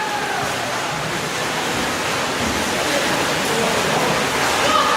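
Swimmers churn the water at a Mount Hope High School swim meet as the 200 freestyle relay begins, the lead-off swimmer in lane 2, giving a steady, dense wash of splashing that blends with the hum of an indoor pool crowd.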